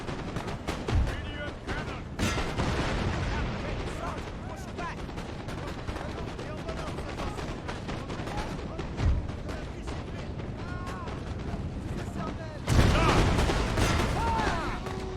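Video game battle gunfire from units, with dense rapid volleys and sharp shots crackling continuously, a few heavier bursts near the start and a loud surge toward the end, all under steady background game noise.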